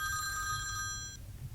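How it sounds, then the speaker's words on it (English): A phone rings nearby with a bright electronic trill that repeats for about a second, then cuts off abruptly and leaves only quiet background hum. "I don't know why my phone's ringing."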